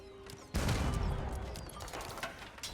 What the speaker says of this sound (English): As the castle, look at that go. It's shooting the cannon right now.